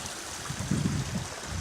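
A small stream flowing over the moors, a soft steady babble of running water with low gurgles, fairly quiet and without voices.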